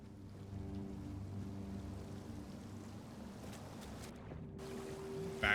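A waterfall in a video game gives off a soft, steady rushing wash under a sustained low tonal drone. The wash holds even throughout, and a brief louder burst arrives right at the end.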